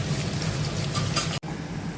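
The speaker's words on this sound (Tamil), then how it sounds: "எண்ணெய் சூடானதும் நம்ம இதை ஃப்ரை பண்ணிக்கலாம்." Batter-coated sweet corn sizzles in hot oil, a steady dense crackling hiss with a brief gap near the end, close and even in loudness.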